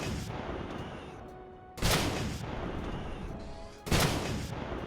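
Two heavy booming shots from a vehicle-mounted gun in the sandbox game Starbound, each a sharp loud blast with a lingering rumbling tail, spaced about two seconds apart over a steady background drone.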